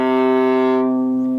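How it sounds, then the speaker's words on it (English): Viola bowed on its open C string, one deep sustained note held steadily and close, rich in overtones, heard alone without talking. "and then that true joy of every honest viola player, the C string."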